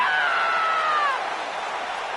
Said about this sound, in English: And the scream, a signature of Paige